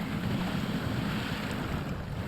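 A Hummer H1 ploughs through a river in the SnowRunner video game, a continuous loud rush of churning water over a low engine drone.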